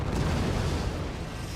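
A mortar volley exploding in the strategy game Forts, a dense rumbling boom filling the whole stretch, loud and sustained with no speech.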